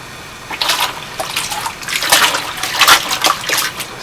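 Clothes plunged by hand in a storage bin of soapy water with Sapolio detergent, giving repeated sloshing, swishing splashes in a steady rhythm, close and fairly loud with no talk.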